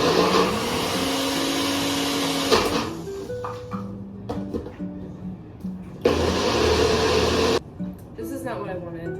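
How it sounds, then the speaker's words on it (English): A kitchen blender whirs through vegan ingredients in loud whining bursts that stop and restart, motor pitch shifting as the load changes, with a person's voice sounding between and over the runs. "Whatever, I'm just gonna blend it."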